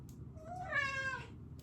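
A pet cat gives a single drawn-out meow, close and clear, rising and falling over about a second against a quiet room with low background hum.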